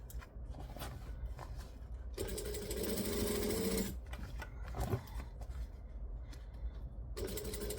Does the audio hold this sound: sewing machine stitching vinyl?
yes